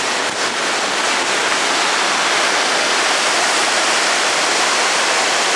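Waterfall at the Saut du Laïr, a steady, loud broadband roar of rushing water that fills the whole clip without a break, with no voices over it.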